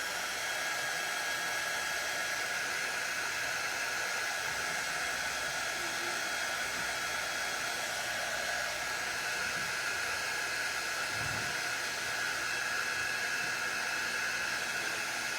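Hair dryer blowing on excess glue on easel interchangeables, a steady, loud whooshing roar with a thin constant whine that runs unchanged throughout.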